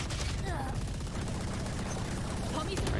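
Rapid gunfire crackles in a Valorant match with the Odin weapon, a dense, continuous burst of shots layered over game sound effects, steady and loud throughout, with a commentator's voice running underneath.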